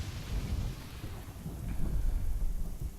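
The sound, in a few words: thunder in the video game Chaos on Deponia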